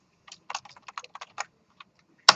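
Students type on computer keyboards in a lecture classroom, a quiet, sparse run of clicking keystrokes ending in one sharper key tap.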